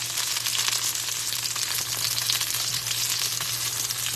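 Shrimp ramen ingredients sizzle steadily in a small wok, a dense, even crackle of frying oil close by, with no voices over it.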